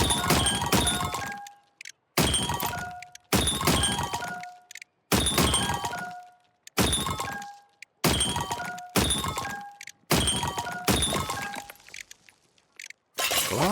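Glass objects smashing in the video game Trash Goblin, eight loud separate shattering bursts in a steady rhythm, each with ringing glassy tinkles that fade before the next break.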